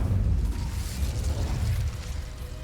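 Incendio fire spell cast in Hogwarts Legacy, a low whooshing burst of flame with rumbling pops that roars briefly and fades, moderately loud with no talk.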